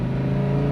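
Lamborghini Huracan LP610-4 on a track, its engine holding a steady loud drone close by as it shifts up a gear, no talk over it.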